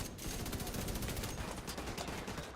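Rapid bursts of automatic gunfire in The Division 2 video game, a dense, loud stream of shots rattling steadily for a couple of seconds.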